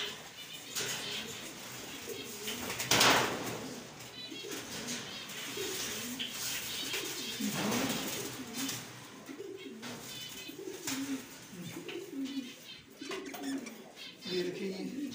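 Pigeons coo repeatedly in a cluster of soft, throaty rolling calls close by, with a brief rustle or flutter partway through and a voice talking intermittently underneath.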